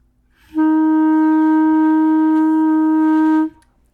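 A single sustained clarinet F note, steady and clear, held for about three seconds with a clean onset and release, alone in a quiet room.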